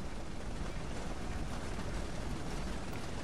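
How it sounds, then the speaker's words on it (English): Engines of a B-17G bomber idling while warming up in the flight simulator FSX, a dense, steady roar that holds unchanged throughout. "Just sit here a while and warm up the engines,"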